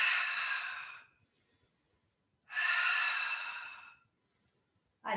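Slow, audible exhales during a guided breathing exercise, two long breathy outflows each lasting over a second, separated by quiet pauses, close and clear with no talking.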